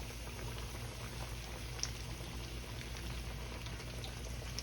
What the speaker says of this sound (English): But we're going to go right here in the grease. Get it 350 degrees.